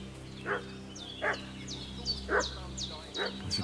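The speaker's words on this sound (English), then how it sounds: "What's that dog making such a fuss about?" A dog barks and fusses, letting out several separate barks with yelping rises at a moderate distance. Steady low hum and background ambience run underneath.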